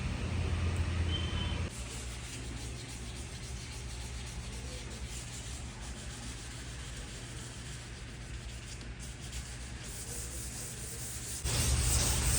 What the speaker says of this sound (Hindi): यहाँ पूरी डिक्की में हम 600 नंबर का पेपर घिस डालेंगे।